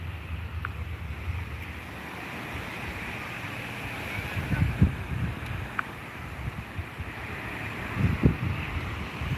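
Ocean waves wash onto a beach at night, a steady windy roar of surf with two louder breaking swells rising near the middle and end.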